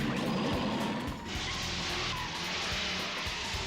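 A retro motorbike races along in an anime scene, a steady broadband engine and road roar with tire-squeal-like streaks, loud and continuous for the whole stretch with no talking.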